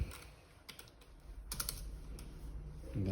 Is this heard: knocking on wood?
no